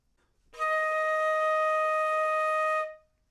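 A single sustained flute note, E flat, rings steady and clear for over two seconds, played alone, then fades out.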